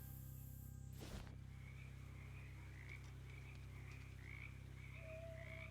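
Frogs croak in a swamp in a video game, repeated rising calls spaced steadily over a constant low ambient hum, with a brief whoosh near the start.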